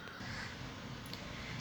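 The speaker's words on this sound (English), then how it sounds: "Ka ka ka, crow." A crow caws in a short, faint burst over a dense, noisy background, with no voices.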